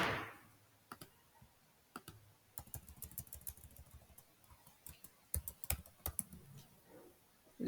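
Clicky computer keyboard typing at a desk, quiet and close, in short irregular bursts of keystrokes separated by brief pauses, with no voices.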